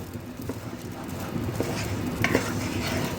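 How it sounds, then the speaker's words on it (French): Bulgur cooks with butter in a pan while a spoon stirs it, giving scraping, tapping strokes over a low sizzle, fairly close and moderately loud. "Je mélange. Je fais bien cuire le boulgour avec le beurre"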